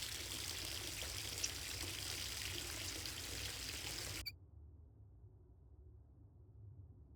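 Steady pouring water from a tap fills a bubble bath in the Project Zomboid video game, a loud continuous rush that cuts off abruptly partway through, leaving only a faint low hum.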